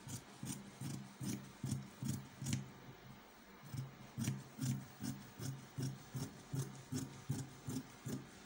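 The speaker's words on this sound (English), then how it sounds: "Then go ahead and cut it out." Scissors snip steadily through fabric while cutting out a skirt panel, close and quiet, with a regular rhythm of crisp cuts and a short pause midway.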